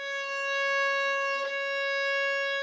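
A violin holds a steady, sustained C sharp without vibrato, bowed as a single clear note. The pitch stays flat and unwavering with bright overtones, close and moderately loud, with a slight bow change midway.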